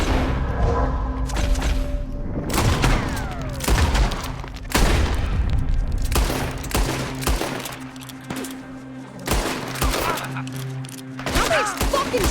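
Rapid bursts of video game gunfire in a Western shootout, sharp cracks and booming shots scattered in clusters with some crashes and a faint voice in between.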